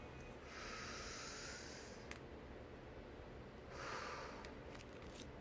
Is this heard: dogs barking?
no